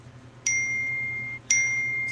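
Two clear electronic notification dings from a phone, each a bright sustained tone lasting about a second, sounding in quick succession against a quiet room.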